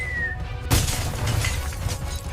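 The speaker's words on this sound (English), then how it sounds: "The roof came down in a shower of sharp, jagged glass" A glass roof shatters and falls in a shower of sharp, jagged shards, a sudden loud crash followed by a dense clatter of breaking glass over a low rumble.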